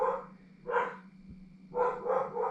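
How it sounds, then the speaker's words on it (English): A dog barks excitedly at a delivery man, with a single bark followed by a short burst of rapid barks, heard somewhat distant indoors. "there must be a delivery man because the dog is going crazy"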